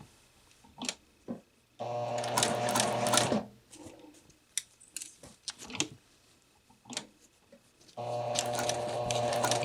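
A sewing machine stitching a basted collar runs in two fast, rattling bursts, with a quieter stretch of soft clicks and taps between them.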